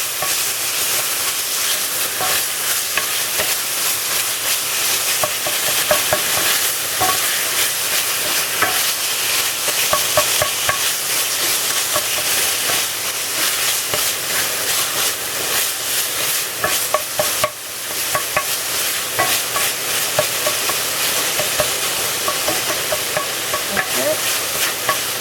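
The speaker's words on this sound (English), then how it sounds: "You just put a little bit of oil in there. That's about a tablespoon, just so that you can crumble up this chorizo." Chorizo frying in about a tablespoon of oil while being crumbled in a pan, a loud, dense, continuous sizzle with scraping and stirring clicks throughout, no voices.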